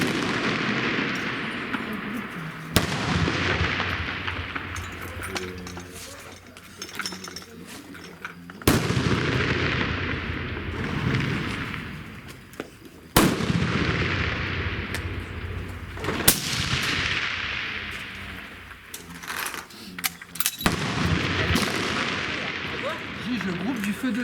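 Gunshots at an outdoor shooting range, a series of loud, sharp reports spaced several seconds apart, each with a ringing decay, while people talk in French between the shots.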